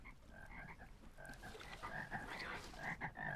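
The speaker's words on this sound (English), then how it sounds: "Oh my god, there's so many frogs." Many frogs croak in overlapping, chirping calls in the video game Vintage Story, a soft but busy chorus that carries on steadily throughout.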